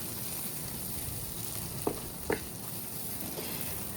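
Jengkol stir-fries with spices in a pan over medium heat, giving a steady, even sizzle throughout with a couple of faint clinks of a utensil against the pan, close and unbroken, with no talking.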